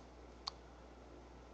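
A single crisp mouse click, sharp and close, rises once from a quiet, steady background hum at a computer running the GDevelop game editor.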